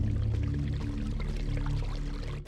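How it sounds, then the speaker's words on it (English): Steady pouring of water as an urn is dunked and filled at a foul-smelling fountain in a video game, a continuous close liquid gush that cuts off abruptly at the end. "Ducking the urn in the foul-smelling fountain, it becomes filled to the brim with rank fluid."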